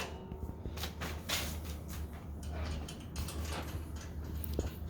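Metallic clicks, ratcheting and scraping knocks sound close by as long bolts fasten a shifter mount onto a racing simulator rig for a Logitech setup, in irregular bursts with no talking.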